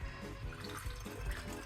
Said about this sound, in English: We are going to use some sterile water to fill this up to 1 liter.